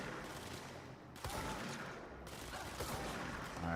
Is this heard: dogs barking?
no